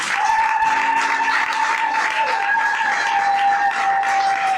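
A church congregation claps and acclaims the Lord during a French-language worship service. The applause is steady and moderately loud, with a sustained tone running over the clapping the whole time.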